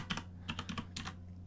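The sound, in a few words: loud computer keyboard typing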